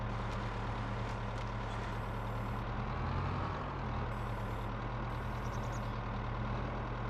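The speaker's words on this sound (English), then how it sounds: "I don't think our logging truck's going to have much trouble getting down here." A logging truck in Farming Simulator 22 drones along with a steady loud diesel engine rumble, joined by intermittent high beeping tones that come and go over the continuous engine noise.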